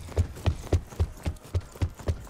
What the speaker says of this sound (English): you can hear my big black boots stomping up and down on the map